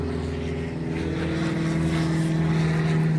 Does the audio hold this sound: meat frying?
no